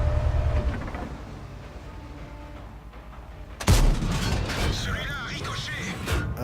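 Tank cannon shots in a tank video game, one sharp, loud blast that booms and rings out, followed by rumbling battle noise and the clatter of the vehicle, with faint talk beneath.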